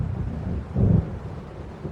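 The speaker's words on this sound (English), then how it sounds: "It seems there's a storm coming." Stormy weather in the game Alan Wake Remastered: a low rumble of distant thunder swells briefly over a steady dark wash of rain and wind, with no voices.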